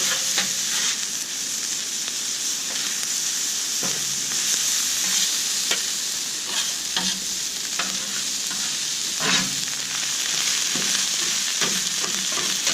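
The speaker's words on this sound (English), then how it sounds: "to start bringing the heat up on these vegetables and get a nice crisp on them" Vegetables for beef and bacon fried rice sizzling steadily in a hot pan, with a loud continuous hiss broken by scraping flips and stirs, no talking.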